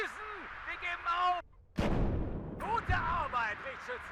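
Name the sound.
SPG-9 recoilless gun firing in video game WARNO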